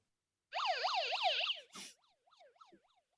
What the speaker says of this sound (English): it is a fire hat with a siren on it